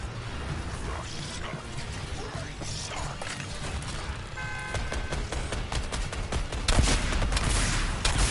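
Gunfire rattles against a car in a video game, a dense run of metallic impacts and crackling shots over a busy mechanical din that builds louder toward the end.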